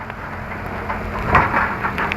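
Heavy rain falling during a typhoon at a construction site clearing, a dense continuous patter and wash of drops close by with no voices.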